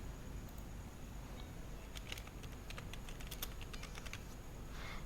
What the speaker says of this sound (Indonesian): Oke, saya ketik dulu.